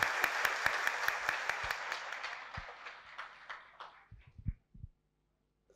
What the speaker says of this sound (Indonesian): kita berikan aplaus untuk Pak Luhut Binsar Panjaitan